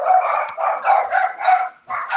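Several dogs barking together close by, loud overlapping barks in near-continuous bursts with one short pause near the end.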